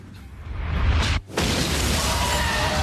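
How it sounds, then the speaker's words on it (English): A school building exploding in a blast that takes the mayor with it: a loud rumbling roar that swells, cuts out for a split second, then returns as a sustained, broad crackling rush. "The school blows up, taking the mayor with it."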